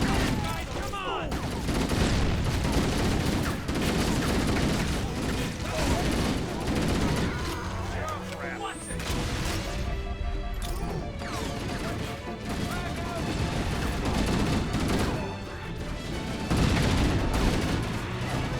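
Dense, continuous gunfire in the video game Halo: Combat Evolved Anniversary, with rapid bursts, crashes and explosions layered over game music and players talking.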